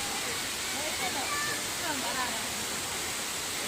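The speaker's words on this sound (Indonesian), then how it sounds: "Air terjunnya sangat bagus sekali." A waterfall at Trawas, Mojokerto roars as a steady, dense wash of noise, continuous and close, with faint voices under it.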